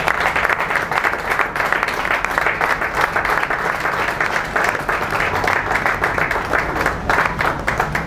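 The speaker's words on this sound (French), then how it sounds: "de pouvoir tous s'élever pour que nous puissions nous acclamer nous-mêmes et les invités" An audience gives sustained, loud, dense applause at a political party gathering, the clapping continuous and evenly spread throughout, with some cheering blended in.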